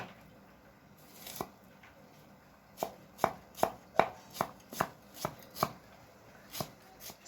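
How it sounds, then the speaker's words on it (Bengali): A chopper knife dices sliced onions into small pieces for a Bangla potato snack, giving about a dozen crisp, evenly spaced chops that come close and fairly loud after one early lone strike. "স্লাইস করে পেঁয়াজগুলোকে কাটার পরে আবার এগুলোকে একদম চপার ছুরির মাধ্যমে একদম ছোট ছোট করে কেটে নেওয়া হচ্ছে।"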